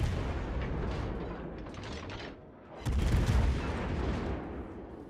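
Warship guns fire high-explosive shells in the naval game World of Warships: Legends, heavy booms and rumbling blasts that roll on steadily and swell into a louder barrage midway, with no voices.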